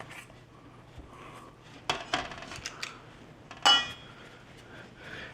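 Ginger snap cookie dough scooped into balls, with a metal scoop scraping and clinking against a bowl in a few sharp, irregular knocks over a quiet kitchen hum.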